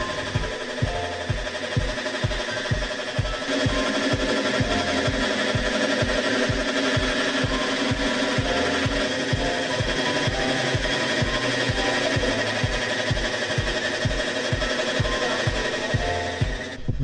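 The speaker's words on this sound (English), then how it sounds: "The sound of a milling machine grinding melon seeds." A milling machine at a Ghanaian production facility grinding agushi melon seeds, a loud, continuous mechanical drone with a steady rapid thumping pulse that runs unbroken throughout, no voices.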